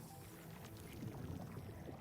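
Clean water pouring into a reactor in the video game Arknights Endfield, a steady watery rush and gurgle that swells slightly midway, close and continuous with no talk.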